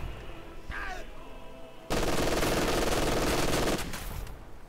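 Sustained burst of machine gun fire in the video game Company of Heroes 2, loud and dense for about two seconds amid battlefield noise, with faint game effects before and after.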